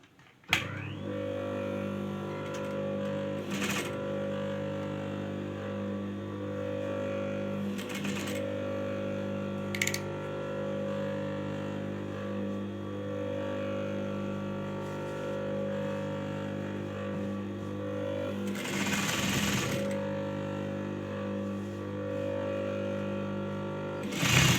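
A sewing machine stitches ribbon onto a sharara, a steady motor hum with a whirring mechanical drone running throughout, broken by a few sharp clicks and brief louder rattling bursts, moderately quiet and close.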